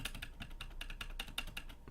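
A loose computer keyboard part is wiggled back and forth, giving a quick, even series of faint plastic clicks and rattles close by, about ten in under two seconds.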